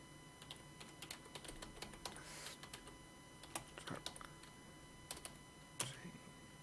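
Fingers tap out a short burst of typing on a computer keyboard, quiet irregular clicks and clacks close to the mic with small pauses between key runs.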